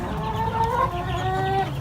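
Chickens clucking inside a dark chicken coop, a steady run of overlapping calls and warbles from several nearby birds with no talking.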